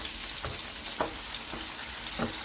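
Oil, onion and fried tomato sizzle steadily in a pan for a seafood paella sofrito, with several soft scraping strokes of stirring spaced through the frying, close and moderately loud, no talk.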